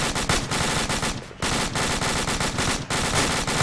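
Gunfire in a military video game: dense, loud bursts of automatic fire with brief gaps, rapid cracks piling over each other at close range.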